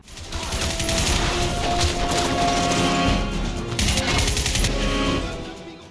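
Sustained automatic gunfire in the 2007 video game Crysis, a loud, dense rattle of rapid shots in long bursts that cuts off abruptly with no echo trailing after, and no talking.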